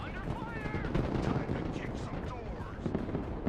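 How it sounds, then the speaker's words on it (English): Strafing run with Maverick missiles in the video game Broken Arrow, dense rattling cannon fire mixed with booming impacts and explosions, loud and continuous, with faint chatter underneath. "I'm doing a strafing run with Mavericks"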